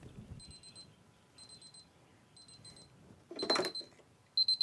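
An electronic alarm beeps in repeated bursts of short, shrill tones with pauses between, over low background noise, with a brief loud burst of noise near the end before the beeping returns.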